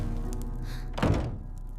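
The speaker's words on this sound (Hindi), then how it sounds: "मगर अगले ही लम्हे इनके पीछे दरवाजा जोर से बंद हुआ।" A door in an old mansion slams shut with one heavy, dull thunk, close by and set against a dark, droning backdrop.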